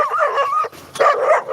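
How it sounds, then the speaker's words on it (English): Several dogs yip and bark in a busy, overlapping jumble of high, excited calls, fairly close and loud, with a brief dip in the middle before the yapping picks back up. "Look at these dogs, bro."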